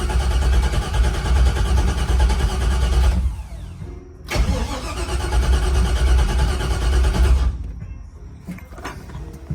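A 1964 Impala with a swapped LS engine and Aces fuel injection, idling loud and close, cutting out abruptly, then restarting and running steadily before stopping again.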